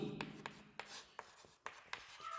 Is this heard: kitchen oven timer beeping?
no